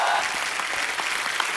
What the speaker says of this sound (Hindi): आप सबकी जोरदार तालियों के बीच इनवाइट करना चाहूंगा very talented, please welcome Huma Qureshi